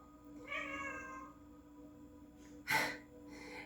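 A cat gives a drawn-out, harmonic meow, followed after a pause by a short, breathy snort or hiss, faint and close with no talk, as though from a fighting or unwell cat.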